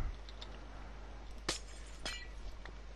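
A glass block in Minecraft breaks with Silk Touch, giving a brief bright shattering clink, followed by a second fainter glassy break, over a low steady background hum.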